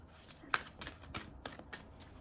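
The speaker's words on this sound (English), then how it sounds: "let me pull an oracle card" Oracle cards shuffled by hand for a reading, a quiet riffle-and-slide pattern of several soft, crisp bursts spaced about every third of a second, close and alone with no talking.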